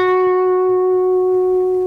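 A single sustained electric guitar note played at the 11th fret of the G string, ringing clean and steady for about two seconds with a slow, gentle decay and no talking.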